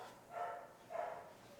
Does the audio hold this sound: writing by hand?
no